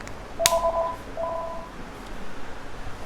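A phone rings with an incoming call: a sharp click, then two short bursts of electronic two-tone beeping, moderately faint, with no voices over it.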